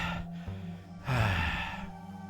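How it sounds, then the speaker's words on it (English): Gasping and panting breaths, close and fairly loud: a couple of ragged inhales and exhales, with a sharp drawn-in gasp partway through. "Gasping for air in a way that's getting a little embarrassing."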